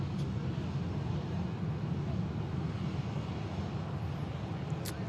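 An Airbus A350 at Manchester Airport produces a steady, broad jet roar that stays at an even level throughout, with some wind rumble at the microphone. No voices are heard.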